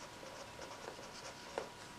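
Pen scratching lightly across paper while labelling a watercolour palette swatch, soft irregular strokes with one sharper tap, quiet and close with no talking.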